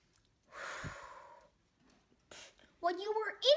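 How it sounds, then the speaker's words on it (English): A deep breath drawn in and pushed back out, a long breathy exhale followed by quieter sounds and a voiced, sigh-like noise near the end, close and alone. "take a deep breath."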